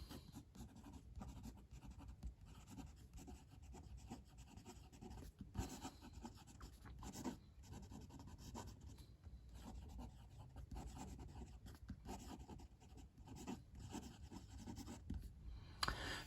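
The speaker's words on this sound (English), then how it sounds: "Let's do some writing." A Lamy Nexx M fountain pen, inked with blue, scratches and glides across paper in fast, continuous strokes, a close, quiet, rhythmic scribbling with brief pauses between words.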